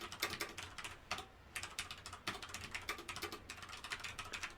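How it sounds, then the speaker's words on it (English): Fast, close typing on a computer keyboard in bursts of dense clicking, broken by short pauses, with no voices. "I can type a bunch of stuff."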